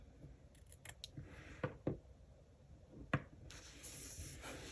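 Scissors snip paper into small dots in a quiet indoor setting, with several distinct close-up cuts spaced a moment apart and light handling rustle between them.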